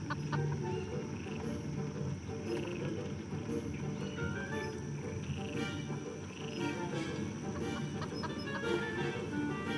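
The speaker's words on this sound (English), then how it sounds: "it attracted the attention of the curious chicken" A chicken clucks in the Foolish Mortals game, steady repeated clucks and croaking calls over a dense, continuous ambient bed, fairly close and unbroken by speech.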